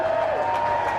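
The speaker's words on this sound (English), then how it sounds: "Look at this magnificent crowd today." A huge crowd of protest marchers at the People's Vote march fills the air with a steady, distant murmur and scattered cheers. A faint sustained tone runs through the hubbub, and no single voice stands out.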